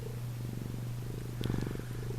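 A house cat purrs close up, a soft steady rumbling pulse running through the whole stretch with no voices.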